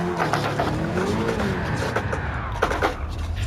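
Gran Turismo 7 D1 drift car sliding with tires skidding and squealing over a steady roaring engine, loud and continuous with wavering pitch as the car slides.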